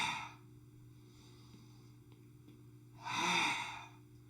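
A slow open-mouthed exhale with the tongue out during a yoga kriya, one broad breathy rush near the end after a long quiet stretch and a fainter breath at the start, close and soft, with no talking.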